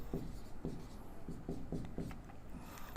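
Chalk or marker strokes scratch across a classroom board in short repeated bursts as a maths factorisation is written out, close and steady with no talking.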